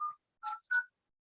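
Desk phone keypad sending three separate dialing tones, each a short clean electronic beep, spaced evenly with silence between and no talk.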